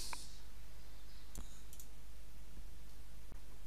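Mouse button clicks in a quiet room, a few sharp isolated taps spread over a few seconds against low steady background hum, with no talking.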